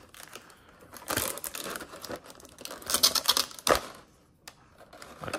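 Blue tape peeled from the packaged stand of a Demon Slayer Ichibansho Tanjiro figure, giving crinkly, crackling tearing bursts around two close handling moments, fairly near and alone.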